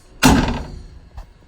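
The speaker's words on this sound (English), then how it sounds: "when you shut the door" The door of a 1978 Dodge street van with a custom wooden interior being shut: one loud, close slam with a short rattle, then a faint second thump about a second later.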